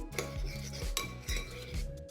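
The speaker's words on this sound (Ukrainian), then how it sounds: "У холодній воді розмішую желатин." A spoon stirs gelatin into cold water in a bowl, clinking and scraping against the sides in a steady rhythm of soft strokes, close and fairly quiet.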